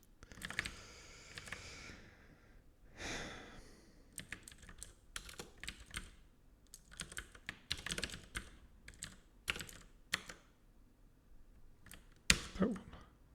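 Typing on a computer keyboard in rapid, irregular bursts of key clicks, close and fairly loud, with short pauses between flurries and a sharper clack near the end.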